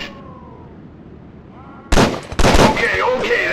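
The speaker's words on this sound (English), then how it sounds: "You are holding the Beretta Model 92, or otherwise known as the M9. Shoot a few rounds down the range." Beretta M9 pistol shots on a video game firing range: a few loud, sharp cracks in quick succession, each with a brief echoing tail, after a quieter stretch.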